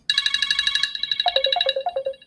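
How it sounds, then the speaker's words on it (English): A phone ringtone sounds for an incoming call: a bright, close electronic melody of rapid repeated high notes that then steps down into a lower run of short tones, playing alone without speech. "Yeah, I got a phone call."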